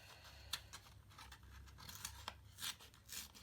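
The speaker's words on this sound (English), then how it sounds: "I'm going to tear this edge down." Paper being torn along its edge while making an envelope booklet, heard as a few faint, close rips with quiet pauses between them.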